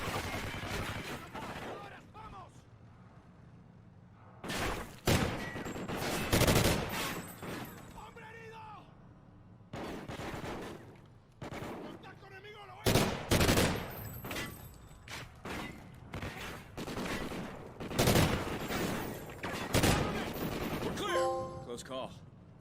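Call of Duty Ghosts gameplay with repeated bursts of gunfire, loud sharp shots in irregular clusters, along with scattered in-game clatter and thuds.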